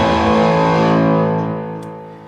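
Distorted electric guitar chord played through a FATCAB speaker cabinet, loud and sustained, then slowly decaying over a couple of seconds.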